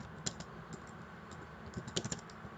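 Fingers type an SQL query on a computer keyboard, with irregular bursts of close, crisp key clicks separated by short pauses.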